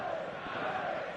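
A large stadium crowd roars steadily before kickoff in eFootball 2026, a broad, continuous wash of cheering and chanting that holds at even loudness from start to end.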